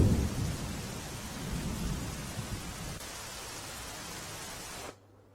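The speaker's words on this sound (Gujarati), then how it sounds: "પોરબંદરના રાણાવાવ તાલુકામાં ધોધમાર વરસાદ" Heavy rain pours with thunder over a waterlogged village in the Ghed area of Porbandar, Gujarat: a dense, steady roar with deep rumbling in the first seconds, cutting off abruptly near the end.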